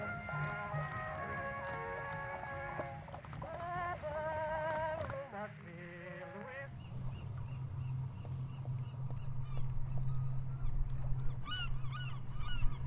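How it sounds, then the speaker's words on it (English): Seagulls calling in the video game An English Haunting, repeated honking, wavering cries over a steady low ambient hum, fairly close and continuing in clusters throughout with no talking. "I have not come here to pester the seagulls."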